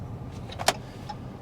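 A Chrysler 300 AWD car on a test drive gives a low, steady road rumble inside the cabin, with one brief sharp click or knock in the middle.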